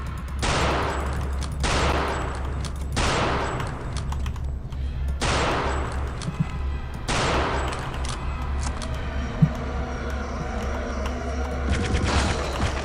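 An enemy in Return to Castle Wolfenstein fires repeated ghostly projectiles at the player, a series of loud sweeping bursts about every second and a half over a constant low game drone, followed by a denser clattering stretch.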